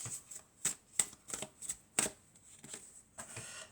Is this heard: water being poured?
no